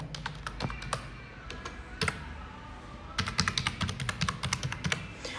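Keys tapped on a computer keyboard while logging in: scattered clicks, then a quicker, denser burst of close typing toward the end, with no one speaking.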